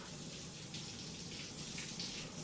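Shower running in a bathroom, a steady hissing wash of falling water at low level, unbroken for the whole moment with no voices.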